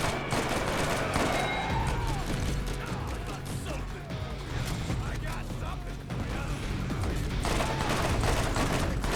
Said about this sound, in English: Alright, who's shooting at me?